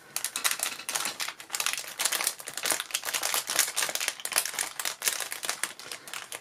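Mail package for a Rune Little Witch vinyl doll being unwrapped, with dense, continuous close crinkling and rustling of packaging that comes in quick bursts throughout, with no talk.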